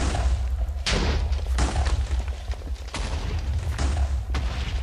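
Repeated TNT blasts in Minecraft set off in a chain reaction to carve a mine tunnel, a series of loud booming explosions with heavy low rumble, several distinct bursts arriving every second or so without pause.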